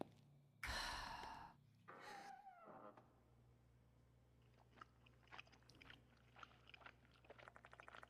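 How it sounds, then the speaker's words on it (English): In a pitch-black restroom in the video game Spirit Hunter: Death Mark 2, breathy gasps give way to faint, scattered wet crunches and clicks of munching, quiet and irregular against a low hum. "I hear a sound coming from the back of the restroom. It's pitch black. I hear the munching."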